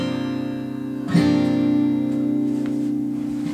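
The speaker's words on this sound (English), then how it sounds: "And your guitar and all open strings will sound like this." Acoustic guitar with a capo on the third fret, its open strings strummed once and left ringing clearly and up close, the chord sustaining and slowly decaying.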